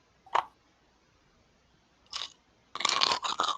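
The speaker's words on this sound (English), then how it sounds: "crunching real fucking loud there" Food crunches loudly right into a microphone in three separate bursts, a single bite, a second, then a longer cluster of crisp chewing crunches.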